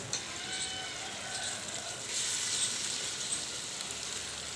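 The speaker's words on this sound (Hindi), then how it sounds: "घी में इलायची के बाद मावा।" Mawa frying in ghee with cardamom gives off a steady, soft sizzle and crackle, an even hiss running throughout with no voices.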